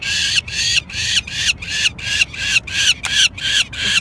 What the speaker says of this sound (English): He's squawking, but he's not being hurt at all.